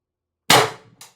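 A CO2 airgun fires a 7.3 gram solid aluminum round in one sharp, loud crack that tails off quickly, followed by a brief fainter report about half a second later.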